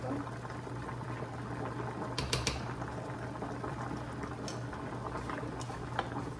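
Rice boiling in a new cooking pot, a steady close bubbling and simmering hiss with a low hum beneath and a few small clinks, no talk.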